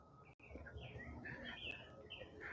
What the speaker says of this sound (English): Was that an oriole?